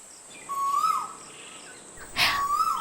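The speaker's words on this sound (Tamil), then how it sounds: "அக்கா குருவி தானே?" A hawk-cuckoo, the akka kuruvi, gives two clear rising whistled calls in a quiet outdoor scene. A brief rustling burst comes just before the second call.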